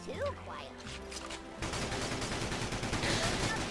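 Rapid rifle gunfire in the Battalion Wars video game, a dense, continuous barrage of overlapping shots that grows louder and busier after a brief quieter opening with game sounds.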